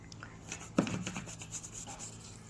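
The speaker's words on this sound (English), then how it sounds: "I like to rub it in now so that I can agitate it with the brush" A brush scrubs cleaner into a car's rubber trim with quiet, repeated rubbing strokes and a soft scratchy texture, faint and close up, with one slightly louder brush contact partway through.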